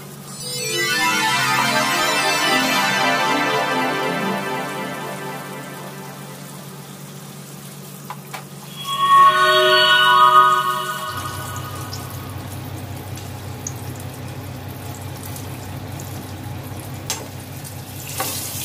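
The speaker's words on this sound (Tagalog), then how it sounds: "So, lagay lang natin lahat sa kawali habang may space." Tofu stir-frying in a pan, with a broad sizzle that swells early, a brief louder burst of hissing near the middle, and then a steady low frying hum carrying on to the end, no talking.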